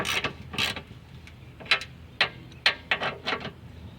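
Snowblower skid shoe bolts being tightened with a ratchet, bursts of quick metallic clicking repeating in short irregular runs, close and fairly quiet with no talking.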